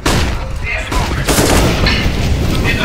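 AK-47 fire in Counter-Strike during an ELEAGUE Major match between Fnatic and Gambit on Mirage, sharp repeated gunshots and bursts crackling over dense game noise, with a commentator's voice running underneath.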